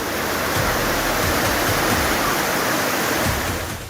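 Torrents of rushing floodwater pouring through flooded streets and houses, a loud, steady broadband roar of churning water filling the whole stretch without pause or voices.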